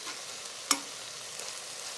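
Chicken pieces browning in a pot for Thai curry, a soft, steady sizzle and hiss throughout with one sharp clink partway, heard alone and fairly quiet.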